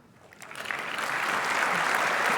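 Conference audience applauding a security research talk, clapping swelling from quiet to a steady, full round of applause that continues to the end.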